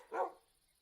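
A single short dog bark in Minecraft, fairly faint and brief, alone against quiet.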